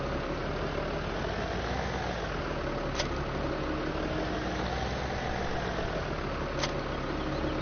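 A tractor engine idles steadily in Farming Simulator 17, a continuous medium-low drone with even rumble and a couple of faint clicks, close and unchanging throughout.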